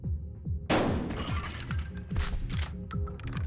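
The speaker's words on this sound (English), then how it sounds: "I'm shooting him" Gunfire in a spooky video game set in a cabin factory: a loud, sharp blast followed by a burst of rapid, repeated shots over a steady rhythmic mechanical thumping, with no talking.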